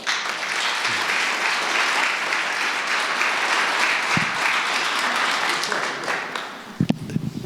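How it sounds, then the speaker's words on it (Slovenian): An audience at a formal award ceremony session in Ravne na Koroškem applauds in a sustained, dense wash of clapping that fades near the end. "Lahko jima zaploskate."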